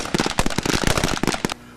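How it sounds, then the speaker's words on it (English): Rapid rifle shots crack out in a dense, irregular volley at a North Dakota National Guard marksmanship range, Army and Air Guard teams firing together, loud and close, ending abruptly into quiet. "And commence firing."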